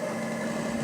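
Mid-90s car engine sound effects playing back on a C.H.I.P. computer in an old game: a faint, thin, steady engine whine with a buzzing hum, brief and unbroken with no talk.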